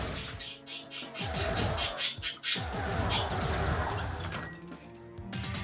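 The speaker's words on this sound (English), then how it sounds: "The birds, they want attention" Birds in the video game Wizard of Legend give a run of high, repeated chirping calls, busy and fairly close at first, then thinning out over a steady background of game music and effects.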